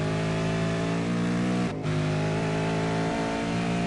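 A V8 Supercar engine in a racing video game accelerates out of a corner at Watkins Glen, a loud, steady rising drone with a brief dip in the middle as the gear shifts.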